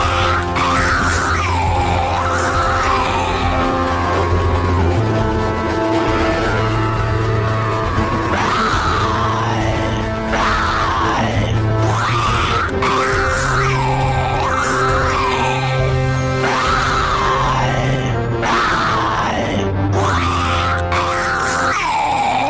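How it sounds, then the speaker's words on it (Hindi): A horde of zombies screams and yells together in a dense, loud, continuous chorus of overlapping howls and rising wails that never lets up. "उस ज़ॉम्बी के चिल्लाने के तुरंत बाद ही काफी सारे ज़ॉम्बी के चीखने चिल्लाने की आवाजें आने लगती है"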